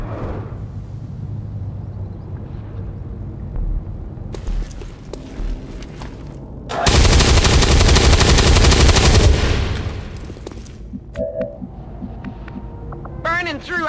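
Machine gun fire from the video game XCOM 2 erupts in a loud, dense burst lasting about two and a half seconds, set among quieter game hum, clatter and scattered effects.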